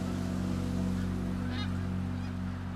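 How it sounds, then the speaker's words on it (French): Greater snow geese gathered on Île aux Grues in the Saint-Laurent, a dense continuous chorus of honking from a large flock, loud and layered, with occasional sharper calls standing out. "c'est la grande oie des neiges qui peuple le ciel"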